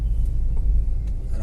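A Honda Amaze VX diesel automatic CVT rolls over a huge speed breaker, heard from inside as a heavy, steady low rumble of road and engine noise with soft thuds.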